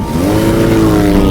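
A motor scooter being ridden to a hotel in the Spanish series Elite: a steady, loud, close engine drone that rises slightly in pitch, with no voices.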